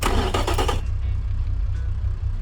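A 90-degree V engine in the Automation car game revs loudly with dense broadband roar for under a second, then settles into a steady low rumbling idle that continues to the end.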